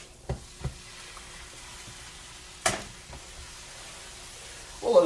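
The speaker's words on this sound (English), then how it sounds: "And then drop these on the griddle," Burger patties sizzle on a buttered griddle, a steady low hiss broken by a few sharp clacks and taps as they are dropped and handled, with the frying noise swelling again near the end.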